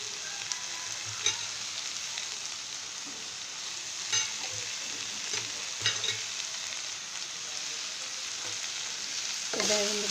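Cabbage curry (bandha kobi tarakari) frying in a pan, a soft steady sizzle with intermittent scraping stirs at a close distance, fairly quiet and with no talking.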